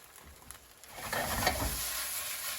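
Chicken browning in a pan for an Asian chicken noodle dish, a steady sizzling frying hiss that swells and thickens after the first second, with faint stirring scrapes and no talk.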